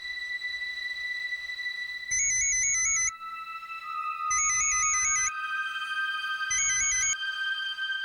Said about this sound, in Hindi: अखिलेश को फोन लगा के देखिए ना, शायद कुछ पता चले।